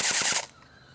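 Colt licensed M4A1 airsoft gun on an 8.4 volt 1100 milliamp battery firing a short full-auto burst of about four rapid, close, loud shots, then cutting off into quiet.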